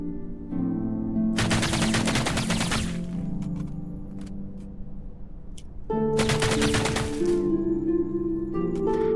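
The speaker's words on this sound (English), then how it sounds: "that second volley of fire was much higher in recoil" Two loud, rapid bursts of automatic gunfire in the Opposer VR video game, each lasting about two seconds and separated by a gap, with faint electronic tones underneath.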